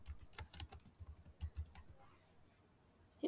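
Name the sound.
typing a city name on a computer keyboard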